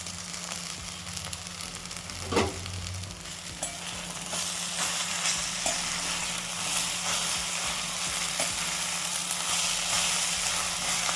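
Poha and cucumber stirred in a pan, with soft sizzling and scraping close by and a few sharper clinks of a spoon against the metal over a low steady hum.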